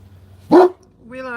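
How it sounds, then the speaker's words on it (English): A single sharp bark from Willow, a dog, cuts in loud and near, followed a moment later by a voice speaking. "She only ever seems to bark when I'm on a video"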